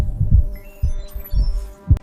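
A heartbeat sound effect of deep, muffled thumps comes in a slow irregular pattern over a low steady hum, loud and close, with a sharper thump near the end.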